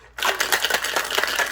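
A margarita is shaken hard in a cocktail shaker with a pint glass, ice rattling in quick, even bursts that start abruptly after a brief quiet moment and carry on loud and close.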